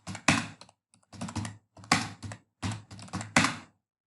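Someone types on a computer keyboard in clustered bursts of clicking keystrokes, up close, with short pauses between groups of keys.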